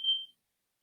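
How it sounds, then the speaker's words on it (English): A kitchen timer beeping while keto cloud bread bakes: one sustained electronic tone that cuts off, then a second tone starting at the very end, clear against silence. "You might be able to hear in the background there the timer going off"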